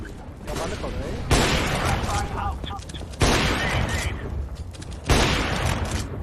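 Three heavy, loud gunshots spaced about two seconds apart in a shooting video game, each with a booming tail, while players talk over the action.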